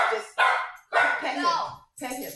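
A dog barks nearby indoors, three or four loud, sharp barks with short pauses between them, some drawn out and yelping.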